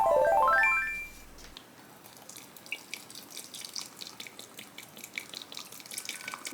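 Water runs into a cup or kettle for tea in a quiet home, a steady thin trickle with light dripping and splashes that follows a short electronic chime at the start.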